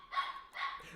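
A pet dog named Zoe barks twice indoors, sharp and fairly close, each bark short with a brief gap between them.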